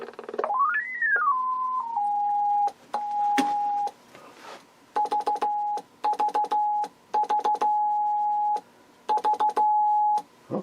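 Signal from a 1929 Type 27 transmitter running on 225 volts, heard as a clear steady tone that sweeps in pitch while being tuned and then sounds in repeated on-off bursts, with no talking.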